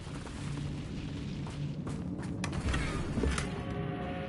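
Incendio fire spell cast in the Hogwarts Legacy video game, a sustained whooshing, crackling burst of flame with booming low rumbles swelling over several seconds, dense and close, with no talk.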